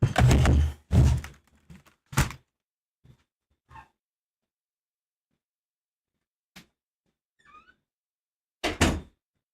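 A door is pushed shut indoors with a heavy thunk after a few loud knocking bumps, followed by quiet scattered clicks and a faint tap in an otherwise still room.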